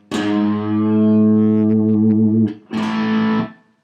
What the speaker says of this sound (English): And then I pull the 4th fret of the low E up to an A.